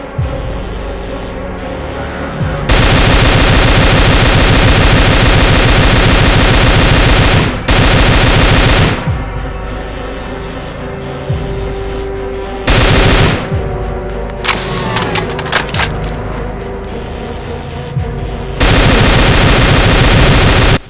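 Assault-type weapons firing in the game DooM, loud rapid-fire bursts of automatic gunfire in several long stretches separated by short lulls, with a few sharp single shots and mechanical clicks between.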